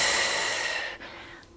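A long, steady exhale during a postpartum core exercise, a breathy airy rush close to the mic that fades gradually and tails off at the end, with no talking.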